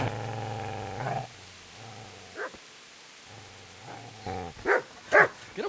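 A dog barks and growls in the medieval role-playing game Kingdom Come: Deliverance, with several harsh, throaty bursts separated by pauses and no speech.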